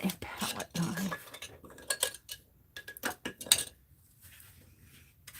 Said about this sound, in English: I need my palette knife.